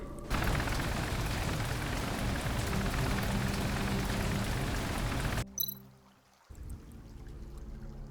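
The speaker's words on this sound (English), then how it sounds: "Water's running." Water rushes loudly and steadily through a drainage pipe in Tales of the Neon Sea for about five seconds, then cuts off abruptly and gives way to faint clanks and a quieter hum.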